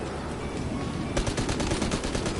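Automatic gunfire in Grand Theft Auto Online breaks out in a fast, loud burst of repeated shots over a constant background din.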